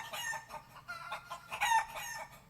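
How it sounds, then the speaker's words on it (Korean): A mother hen clucks repeatedly in uneven short bursts, with one louder drawn-out call partway through. "어미닭입니다"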